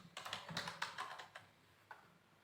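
Quick bursts of typing on a computer keyboard as a location is entered into a document, about a dozen close, crisp key taps in a fast run followed by a pause and one final stroke.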